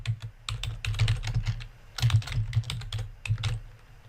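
Rapid keystrokes on a computer keyboard, clattering in quick bursts with short pauses, close and clear with no talking over them.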